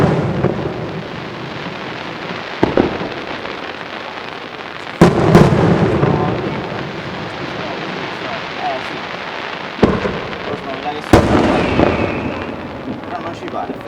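Fireworks at the Sant'Anna festival, recorded from a drone, with a continuous crackle and rumble broken by several sharp booming bursts, some nearby, while voices talk faintly underneath.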